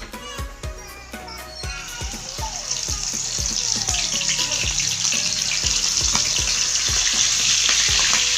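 Calamari coated in crispy fry mix sizzles in hot oil, a loud, steady crackling hiss that builds over several seconds, punctuated by clinks of utensils against the pan.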